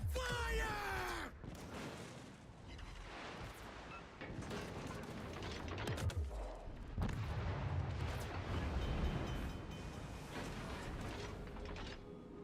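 Weapons fire from a hydroacoustic surge in the Star Trek Legends game booms in repeated heavy blasts and rumbling impacts, with mechanical clatter and shouted voices mixed in.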